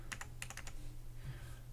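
A short, quick burst of keystrokes on a computer keyboard plays over a low hum. It is followed by a pause and one last key press, all close and fairly quiet.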